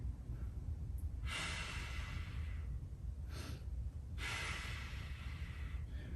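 Deep, steady breaths drawn in and let out while holding a stick mobility stretch during a back workout, several long exhales rising over a constant low background hum with no talking.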